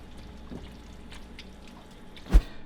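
Palmini keto pasta bolognese is poured into a bowl, a soft, quiet slide of thick sauce with one brief, sharper wet plop near the end.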